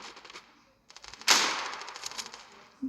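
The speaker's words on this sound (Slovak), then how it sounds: "Kobra 8. Petarda." A Kobra 8 firecracker explodes in one loud, sharp bang that rings out into a fading echo, after a few softer pops and crackles just before it.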